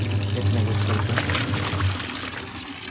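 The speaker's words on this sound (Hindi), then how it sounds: "चलो तो उन पेड़ों को पानी देता हूँ" Water poured from a container onto trees outdoors: a steady gushing pour lasting about two seconds that then tapers off, with a low background hum and no clear talk.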